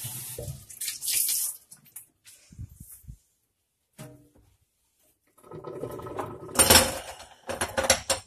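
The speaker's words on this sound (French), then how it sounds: "Un petit peu de rinçage." Tap water runs and splashes as a homemade clay cleaning stone is rinsed under a faucet, coming in two bursts with a quiet gap between them, the second louder and more broken up by handling.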